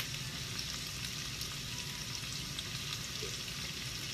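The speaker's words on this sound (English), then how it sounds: "So we have our lamb over here, boiling, and our chickpeas over here, boiling" Lamb and chickpeas boiling in pots, a faint, steady bubbling hiss and gentle roiling that runs unbroken without talk.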